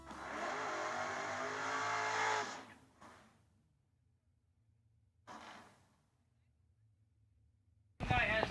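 A drag racing car launches and roars loudly down the right lane at a Cedar Falls race, the engine blast lasting a couple of seconds before fading, followed by quieter gaps and short bursts of crowd or engine noise.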